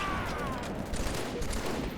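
Dense, continuous gunfire from a Halo 3 team doubles match, a steady wall of overlapping shots lasting about two seconds with no pauses and no talking.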